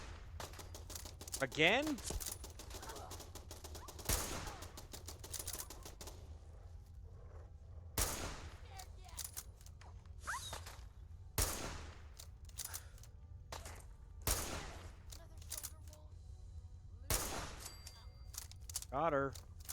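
Gunshots ring out in Fallout 4, scattered sharp cracks spread across the stretch with uneven gaps between them, while a player talks over the action and footsteps and ambient game sounds run underneath.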